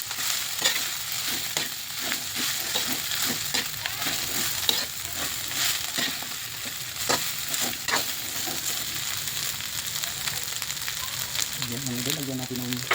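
Garlic and freshly cooked rice fry in a pan with a continuous close sizzle, punctuated by rhythmic scraping and tapping of a spatula stirring the mixture.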